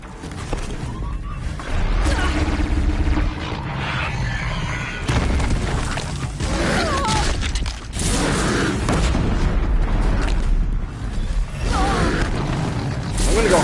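Freed machines rampaging in the video game Horizon Zero Dawn, a dense continuous mix of mechanical clanks, creaks, heavy booms and crashes, loud and close with a voice speaking intermittently beneath.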